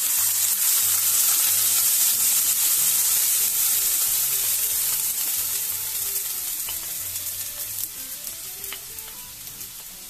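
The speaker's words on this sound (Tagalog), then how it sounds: "pag nilalagay natin ng tomato sauce sa mantika, matalsik po siya" Tomato sauce hitting hot oil gives a loud, dense sizzle and spattering hiss that slowly eases over several seconds, with a few stirring scrapes and no voices.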